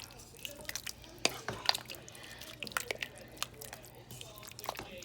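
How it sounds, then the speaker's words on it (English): A spoon works through thick Zuppa Tuscana soup in a pot, making soft wet squelches, drips and knocks that come in irregular bursts, faint and close. "So I'm just going to stir it up."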